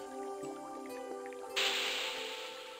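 Water poured from a half-filled bottle onto a hot cone in Broken Sword 2: The Smoking Mirror Remastered. Soft drips and trickles give way to a sudden loud, broad hissing splash that fades slowly.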